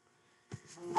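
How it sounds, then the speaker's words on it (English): Mobile phone going off during a programming lesson: a short electronic tone sequence ending in a sustained beep, fairly close and clear, with no talk over it. "excuse my phone"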